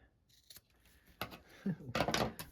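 Scissors trimming the leftover zipper off a tote bag panel: a few crisp snips close by, getting quicker and louder toward the end, with light handling noise in between.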